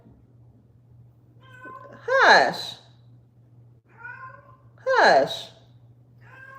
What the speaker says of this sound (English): Y'all hear my cat?